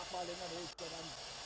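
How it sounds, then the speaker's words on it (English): A rocket's LOX tank vents through its valve with a steady, broad hiss like escaping steam, continuous for the whole moment with one brief dip, while a voice talks over it. "it seems it's a venting of the LOX tank"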